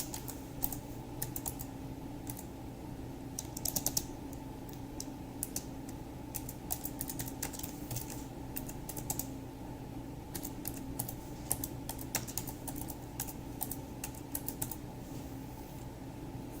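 Continuous typing on a computer keyboard, close and steady, with rapid uneven key clicks and occasional louder taps over a faint room hum, no voices.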